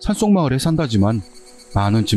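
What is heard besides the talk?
No everyday noises stand out.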